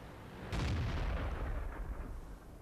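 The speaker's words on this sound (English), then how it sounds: "So I totally whiffed a shot there." Tank cannon firing in the World of Tanks video game, a single loud booming shot followed by a rumbling decay, with no talk over it.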